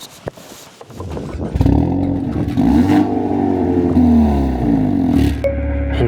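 Engine of a 2025 Hyundai Elantra N building revs as it pulls away under acceleration, a steady loud drone rising and falling in pitch through gear changes, with no talking over it.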